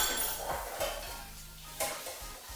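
Dishes are washed in a sink, with plates and cutlery clinking and knocking together in sparse clatters over running water, fairly quiet and close with no voices.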